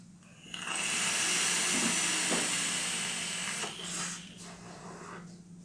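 A Blaze Solo RDA vape fired at 60 watts with a 0.3 ohm coil lets out a strong, close airy hiss lasting about three seconds, easing off into a fainter second draw, with no talking.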